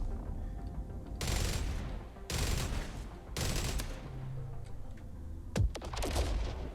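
Heavy gunfire in a video game sounds in three long, loud automatic bursts about a second apart, followed by a few sharper single blasts near the end.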